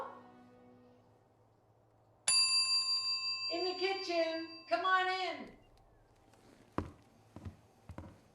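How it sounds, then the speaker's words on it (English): A doorbell rings once with a bright bell-like tone that lingers, followed by voices talking and a few footsteps and taps. "I had to take these turnovers out of the oven the exact moment you rang the bell"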